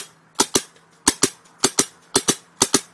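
An Empire Axe paintball marker with reduced dwell fires ten sharp, loud shots in quick pairs, each double pop snapping out alone over a faint steady hum.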